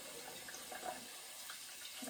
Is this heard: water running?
yes